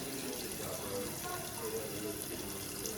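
Tap water runs steadily into a pot of rinsed pork neck bones, a constant, close hiss and gurgle of filling liquid with no pauses, while a person talks faintly underneath.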